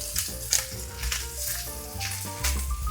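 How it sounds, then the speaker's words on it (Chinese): Bacon hits hot oil in a wok while being stir-fried for a cabbage dish, giving a continuous close sizzle with scattered crackles and a low tonal hum beneath. "培根下去就香喷喷呢"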